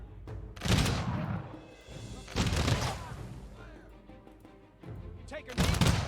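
Gunfire from units firing in the strategy game Humankind, with three loud bursts of volleys spaced a couple of seconds apart under ongoing talk.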